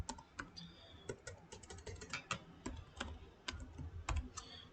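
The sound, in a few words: typing on a computer keyboard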